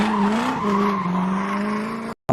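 Several cars arrive and skid to a stop with a loud, sustained tire squeal that wavers in pitch and then cuts off abruptly.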